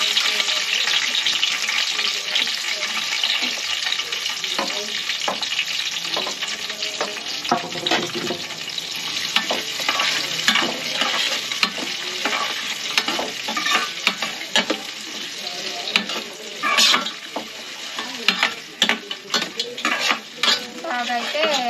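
Green chillies and onion pieces sizzle steadily in hot oil for veg biryani while a spoon scrapes and stirs the pan in repeated clinks and scuffs throughout.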